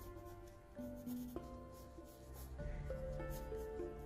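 Pencil scratching on paper as a figure with a cloak is sketched, made of steady rubbing strokes with short quick marks, close and alone.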